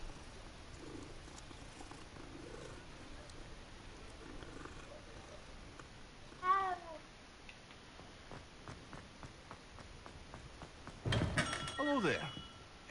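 A cat in the Hogwarts Legacy video game, a short meow rising and falling midway, with a second, louder meow and scuffling near the end, set against quiet game ambience and a low purr-like rumble.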